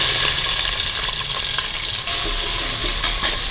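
Ghee sizzling in a hot pan while bottle gourd kheer is cooked, a steady close crackling hiss with a small jump in intensity partway through, no talking.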